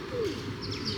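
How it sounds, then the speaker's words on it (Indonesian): Pigeons coo in an outdoor city setting in Basel, a soft low descending coo near the start, followed by faint higher chirps against steady street ambience. "Banyak banget burung daranya"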